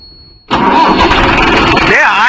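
A Mahindra 605 S tractor engine, freshly serviced with new Castrol oil, cranks and fires abruptly, then settles into a loud, steady diesel idle close by, with people talking over it.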